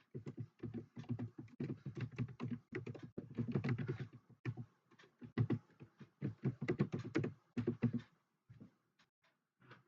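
A computer keyboard being typed on while a C program is written, giving a steady run of close, crisp key clicks in uneven bursts with short pauses and no voices.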